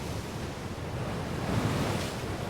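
Ocean waves washing on a cold, snowy seaside shore in a Severance TV episode, a steady broad roar of surf with wind, swelling slightly midway.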